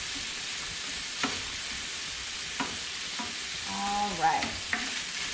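Chorizo and vegetables frying in a pan give a steady low hiss with occasional utensil taps and a brief scrape, while a person speaks briefly.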